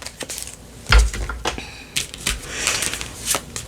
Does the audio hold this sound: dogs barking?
no